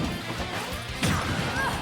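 A back air attack lands in Super Smash Bros. Ultimate with a sharp, loud smack partway through. Busy game effects and crowd noise fill the background before and after the hit.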